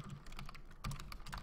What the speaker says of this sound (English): why am I just typing this?